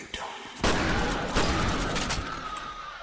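A shotgun in the video game F.E.A.R. fires loud, booming blasts close up, one after another. Each blast is followed by a long, rough, reverberant wash of gunfire noise.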